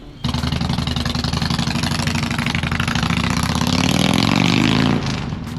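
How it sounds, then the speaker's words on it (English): A motorcycle engine runs steadily at close range with a throbbing idle, then revs up, climbing in pitch for about a second before dropping back, as the bike is ridden out; no talk is heard. "Eric's taking the bike out real quick just to make sure that everything's tight and ready to go so I can ride it."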